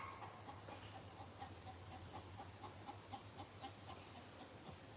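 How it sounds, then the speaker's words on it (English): A chicken clucks in a series of faint, repeated short clucks over a low steady hum. "Did they just get a chicken?"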